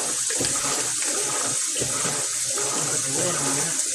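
Water from a faucet running steadily into a cooking pot, a continuous close rushing splash with slight shifts in tone as the pot fills, no talking.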